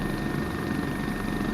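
A twin-engine helicopter cruising near 135 knots with its engines close to maximum torque, a loud, steady, close rotor and turbine roar that barely changes and carries no talk.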